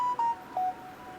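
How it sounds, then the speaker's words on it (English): A phone gives off a few short electronic tones, two steady beeps then a third slightly lower, quiet against faint room noise with no talking. "it's my phone"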